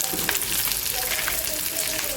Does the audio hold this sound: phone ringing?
no